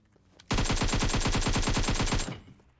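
A rapid burst of automatic gunfire in a video game rattles out loud and close, a steady stream of evenly spaced shots lasting about two seconds before cutting off into quiet.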